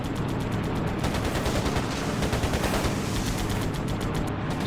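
Rapid bursts of enemy gunfire in the WWII Pacific air combat game Air Conflicts: Pacific Carriers, a dense, steady rattle of machine-gun fire filling the whole stretch at constant loudness with no talking.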